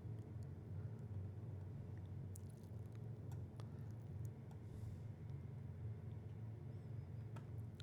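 A Cessna 310 twin-engine plane idles with a little throttle, a steady low rumbling engine drone close and continuous with faint clicks on top.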